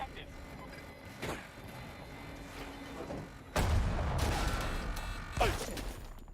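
Gunfire in Battlefield 2042 crackles and booms in scattered bursts, with a heavy blast midway that leads into denser rumbling fire and another sharp crack near the end, while a voice talks over it.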